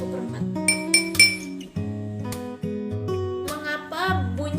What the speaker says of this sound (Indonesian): Coba dentingkan sendok pada masing-masing gelas.